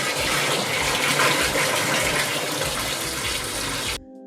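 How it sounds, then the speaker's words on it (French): A filling pump pushes a water-glycol mix into a solar thermal circuit, giving a steady, loud rushing gush of fluid that runs without a break for about four seconds and then cuts off abruptly. "Hervé a mis la pompe en route et le fluide est donc injecté dans le circuit"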